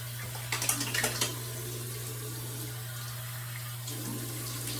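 Tap water runs steadily into a sink while someone washes their face, making a soft continuous rush with a few brief splashes near the start and no voice.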